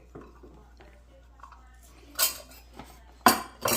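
Old-fashioned oats scooped from a bag with a one-cup measure into a bowl: soft rustling and scraping, then two sharp clattering bursts of the metal cup against the bowl, close and moderately loud.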